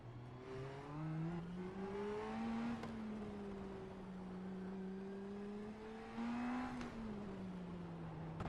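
Race car engine in a sim racing game on the Long Beach street circuit, a steady loud drone that rises and falls as it revs out of the pit lane, with two sharp upshifts.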